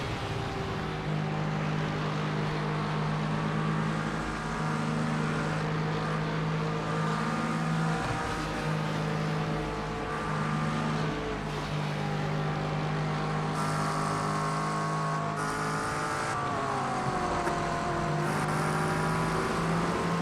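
Race car engine in the iRacing sim, passing on the outside through the Porsche Curves, a steady loud drone with shifting pitch and higher whines near the end, no talk.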